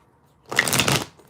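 A deck of fairy oracle cards riffled in one quick, crisp burst of shuffling, close and fairly loud, lasting under a second with no talk over it.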